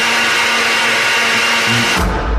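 A kitchen blender whirs loud and steady with a humming motor tone, then shifts pitch and cuts out near the end, leaving a low rumble.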